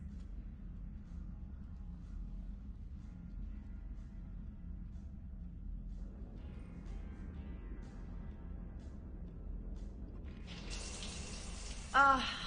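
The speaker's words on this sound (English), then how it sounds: "I figured you'd be more interested in the shower." A shower running in a Mass Effect Trilogy scene, steady soft water spray over a low hum, growing brighter and fuller partway through, with a louder splash of running water near the end.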